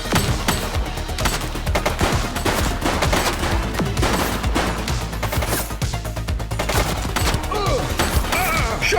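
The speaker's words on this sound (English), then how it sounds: "Shots fired!" Gunfire in the police video game The Precinct, a rapid run of loud repeated shots with sharp crashes that stays dense and continuous for about nine seconds, with no voices.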